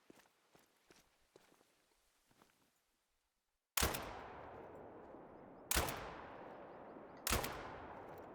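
Three loud rifle shots in The Hunter: Call of the Wild ring out in close succession after quiet footsteps, each a sharp crack trailing into a long echoing decay.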